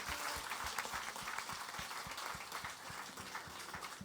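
A church congregation applauds steadily at a Sunday service, dense clapping filling the room with a continuous, even wash of sound, moderately loud throughout.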